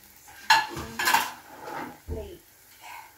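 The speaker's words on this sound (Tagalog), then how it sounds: "So, ilagay ko siya sa plato." An omelette of cucumber, carrots and cabbage is moved onto a plate, giving a few close clinks and scrapes of utensil against dishware, sharp bursts separated by short pauses.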